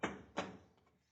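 Two heavy knocks on a door strike about a third of a second apart, each booming and then fading, with nothing else heard.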